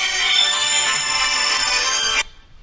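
A mobile phone's ringtone plays loudly and steadily, a bright electronic tune that stops abruptly after about two seconds, leaving faint room noise.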